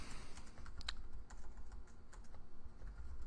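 Rapid, irregular clatter of keys on a computer keyboard while entering a login username in Codeigniter code, close and steady over a low background hum, with no talking.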